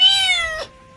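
Mother cat giving one loud, drawn-out meow that falls in pitch and stops abruptly, with quiet room tone after it.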